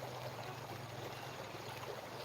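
A village river flows steadily in a continuous, even wash of water with a soft trickling texture. It sounds moderately close, holds at a constant level throughout and carries no speech.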